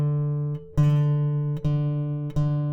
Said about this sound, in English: we're going to go on the A string, count 5 frets. 1, 2, 3, 4, 5. Play that note.